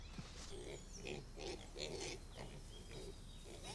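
Sussex pigs in a field at a country estate grunt and oink in a series of low, snuffling bursts, moderately near and fairly quiet, with no talk.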